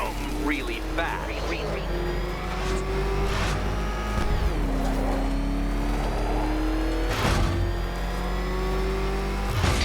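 The Batmobile in Batman: Arkham Knight roars steadily, its engine pitch climbing and dropping through repeated revs, with bursts of impact noise. A voice talks over it at times.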